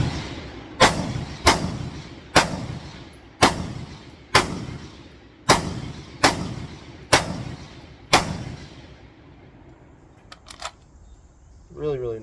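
A CMMG BR4 rifle firing eight sharp, loud shots at a steady, roughly one-per-second pace, each with a short decaying echo, followed by quieter handling clicks and a brief rustle.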